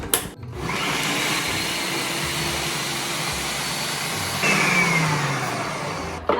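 Electric chopper whirring steadily as it chops onions and garlic in a home kitchen, a continuous loud motor drone lasting several seconds with a slight pitch shift partway through and no talk over it.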